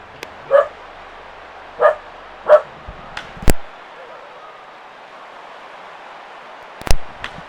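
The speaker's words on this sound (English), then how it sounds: "We apologize for somebody bringing their dog into the stadium." A dog barking in a baseball stadium in the MLB Front Office Manager video game, several sharp single barks spaced apart over quiet crowd ambience, with a couple of sharp clicks in between.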